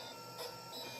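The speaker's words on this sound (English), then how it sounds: "It's currently printing a job, and this I would say is at extremely slow speed" A homemade screw-driven 3-axis 3D printer runs a job at extremely slow speed, giving a faint, steady mechanical hum with a soft click near the end.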